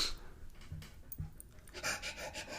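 A puppy pants in quick soft bursts close by, with a few faint whimpers, in a quiet room.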